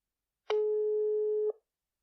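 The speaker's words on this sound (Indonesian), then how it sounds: "Oke, langsung kita telepon aja siapakah dia." A single steady telephone call tone, about one second long, rings out clearly and alone while a podcast host places a call to her guest, then cuts off into silence.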